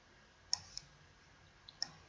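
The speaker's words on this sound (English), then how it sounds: "Click on the first cell" A computer mouse clicks while spreadsheet cells are selected in Stata: sharp, faint clicks, two close together and then a pair near the end, over a quiet room hiss.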